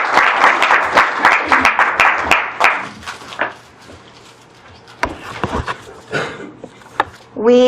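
An audience applauds to welcome two speakers, with dense clapping loud at first, thinning and fading after a few seconds, then scattered claps and a voice near the end.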